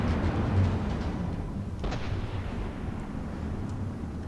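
Naval artillery volley in a battle game: a dense, rumbling barrage of booming fire that rolls on steadily throughout, with one sharper crack partway through.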